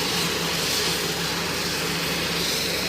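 A departing airplane's engines roar steadily at an airport, a broad loud rumble close by with no voices over it.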